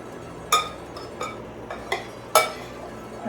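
Spoon stirring artichoke-feta filling in a bowl, with about six separate clinks against the bowl at irregular intervals over a quiet background.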